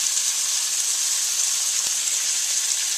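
Butter and garlic sizzling in a pan, a steady bright crackling hiss, close and even throughout with one faint clink and no talking.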